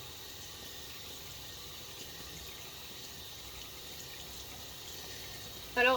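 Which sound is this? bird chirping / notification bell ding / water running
water running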